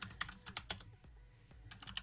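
Computer keys clatter in quick bursts of close, crisp clicks, with a short pause in the middle before the rapid typing picks up again.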